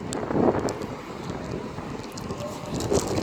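Gusty wind buffets the microphone on a platform at Reading station on the Great Western Main Line, a steady rumbling roar with stronger bursts near the start and end.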